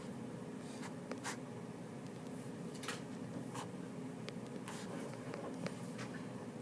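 Faint, scratchy strokes of a pen or marker drawing electron energy-level diagrams by hand come in short, irregular bursts over a quiet room background.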